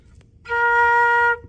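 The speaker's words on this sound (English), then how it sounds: "this is going to be a B flat. Sounds like this." A single steady flute note, B flat, held for about a second, clear and close, with a faint room hum around it.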